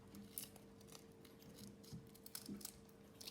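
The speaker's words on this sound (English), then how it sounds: "Now I'm just gonna cut this part." Scissors snip through part of a homemade DIY pop it fidget toy, giving a few quiet, separate cuts spaced a second or so apart in a hushed room.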